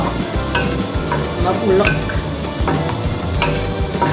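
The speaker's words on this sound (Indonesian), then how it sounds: "Santannya udah mendidih" Coconut milk boils in a pot of Batak-style pounded cassava leaves as a spoon stirs steadily, giving a constant bubbling sizzle broken by light clinks and scrapes.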